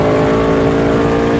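A race car with a supercharged engine running E85 fuel accelerates hard on a drag strip, shifting from third into fourth gear, its loud, steady engine roar filling the short moment without any voices.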